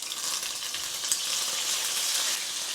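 Prawns drop into hot salted oil in a pan, raising a loud, dense, hissing sizzle that stays steady and close for a few seconds, with no talking.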